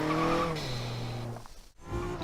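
A low-horsepower Mazda MX-5 drifting with the handbrake in Forza Horizon 3: engine tone sliding down in pitch, then a brief dropout and tire squeal before the engine picks back up, loud and continuous.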